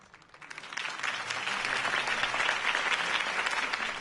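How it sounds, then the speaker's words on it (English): A video game crowd in Batman: The Telltale Series bursts into sustained clapping that swells within the first second and holds steady, dense and loud, with scattered cheers mixed in. "If only Mr. Wayne, my campaign's largest backer, could have heard that applause"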